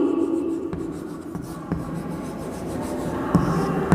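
Pen or pencil writing a word by hand on paper, a close scratchy rubbing with a few short strokes and taps, steady and fairly loud, with no one talking.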